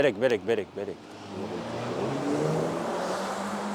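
A car engine revs up in London and then holds a steady, loud roar, following a second or so of talking at the start.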